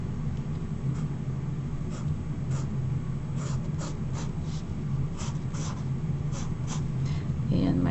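A marker drawing lines on a surface, sounding as short soft scratchy strokes in irregular bursts over a steady low background hum.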